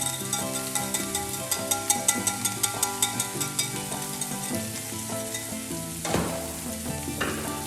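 Eggs sizzle gently in a pan over the lowest heat, a soft steady crackle punctuated by regular light taps and stirring, with a brief louder scrape near the end and no talking.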